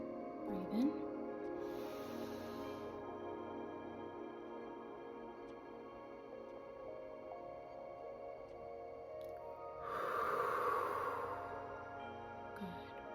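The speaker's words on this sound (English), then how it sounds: "And we're gonna do some deep breaths, just to really ground in." Slow, deep breaths taken during a guided Reiki breathing exercise: two long, airy breath sounds separated by a quiet hold, over a soft sustained musical drone.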